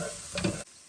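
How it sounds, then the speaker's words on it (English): Butter melts and sizzles in a camp cooking pan, giving a soft, steady, faint hiss with a slight stirring scrape, cut off abruptly after under a second. "all I'm going to do is melt a bit of butter at the bottom of there"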